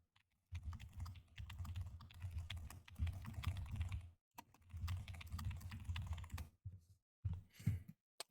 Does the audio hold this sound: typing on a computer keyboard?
yes